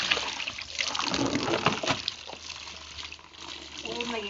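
Clothes washed by hand slosh and splash in water, a close, fairly quiet wet rustle and dribble, with a voice talking faintly in the background.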